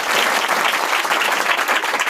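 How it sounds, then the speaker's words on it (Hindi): An audience at a coaching centre event in India bursts into applause, dense steady clapping from many hands, loud and close, holding level for about two seconds with no talk over it. "इसके लिए सभी लोग ताली बजाएं, क्योंकि देश के सेवा में जाना चाहती है"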